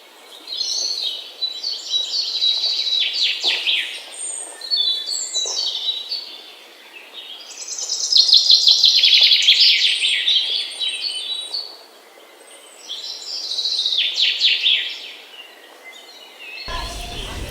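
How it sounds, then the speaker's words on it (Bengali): Birds chirping and twittering in bursts in a village, fairly close, with short pauses between songs over an otherwise quiet background. "পাখির কিচির মিচির শব্দ শোনা"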